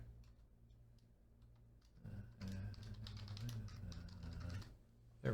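Clicky keystrokes on a computer keyboard, quick irregular taps at close range over a low background hum, growing busier and louder partway through.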